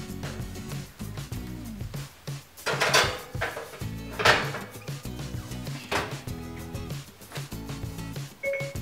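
A metal cupcake tray of funfetti cupcakes goes into an oven with clanks, rattles and a door thud, a series of sharp close kitchen knocks with no talking.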